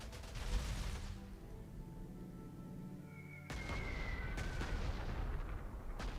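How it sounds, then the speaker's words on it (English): Fighter planes strafing with gunfire in the World War II strategy game Panzer Corps 2, a long rolling burst of booming fire that cuts off and then starts again with sharper blasts. "5 casualties inflicted by fighters strafing"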